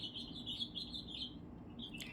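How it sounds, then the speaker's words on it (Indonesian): Birds chirp outside in a quick, continuous twittering, with bright repeated high notes over a steady low background hum. "ditemani kicau burung di luar sana ya"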